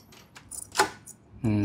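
A manual key for a battery-operated smart lock jangles in a few short metallic clinks and rattles, close up, with a voice starting to speak at the end.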